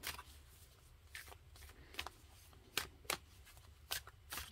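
A deck of oracle cards being shuffled by hand, a series of short crisp riffling bursts at irregular intervals, close and fairly quiet.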